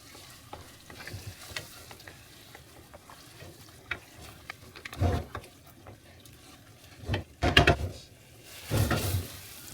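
A spoon stirs moussaka filling in a hot pan: a steady sizzle with scraping strokes that come in louder bursts near the middle and end.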